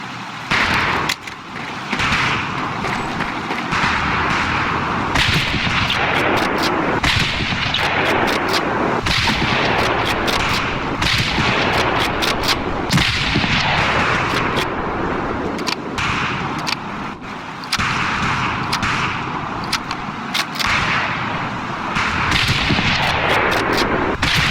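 Scoped rifles fire on a long-range practice course in Medal of Honor Pacific Assault, with many sharp cracks in an irregular rhythm over a loud, continuous backdrop of distant gunfire and battle noise.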